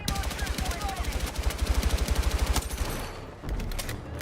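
Rapid automatic gunfire in the Battlefield 6 video game, a loud fast burst of evenly spaced shots running for several seconds before cutting off, followed by lingering battlefield noise.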